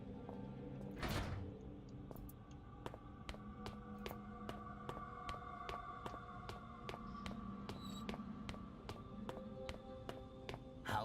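A heavy door creaks and rumbles open at the start of a stretch of Penumbra: Black Plague, one burst of scraping noise. Steady ambient drones and regular ticking clicks from the game carry on through the rest.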